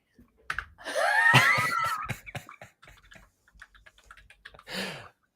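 Computer keyboard typing comes through as a scattered series of quick, close clicks and taps, mixed with a brief loud vocal outburst and soft laughter.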